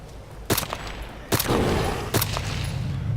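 Three sharp gunshots ring out in the video game DayZ Epoch on the Namalsk map, spaced roughly a second apart, each with a short reverberant tail over quiet background noise.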